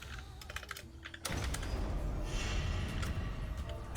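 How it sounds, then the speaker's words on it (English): Rapid clicking of computer keyboard keys in irregular bursts, fairly close, during a Final Fantasy XIV session, with a denser wash of game noise rising partway through. "I'm busy typing away when I should be fighting"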